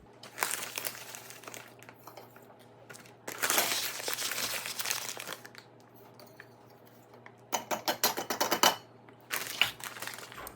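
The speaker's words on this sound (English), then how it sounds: "I'm gonna be putting in 2 cups of dry milk powder right here into this can." Dry milk powder is poured into a can in several bursts of soft, crinkly rustling and scraping, separated by quiet pauses, close and fairly faint.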